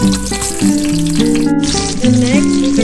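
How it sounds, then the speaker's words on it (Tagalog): Onion frying in heated cooking oil gives a steady hiss and sizzle, running continuously under prominent background music. "kasama ang ating onion, pinapainit ko lang ang mantika mga loves"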